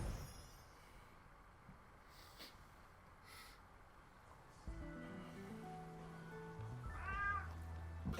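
A cat meows in the video game 13 Sentinels: Aegis Rim, a single short meow rising over a quiet bed of ambient game music and low rumble near the end.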